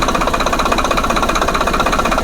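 A tractor's diesel engine runs at steady idle, close and loud, with a fast, even knocking beat that holds throughout.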